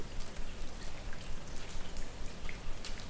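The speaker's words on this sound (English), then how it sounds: "the rain continues to fall" Steady rain falls softly, a dense, even patter of drops on a surface, heard alone and fairly quiet without any voice.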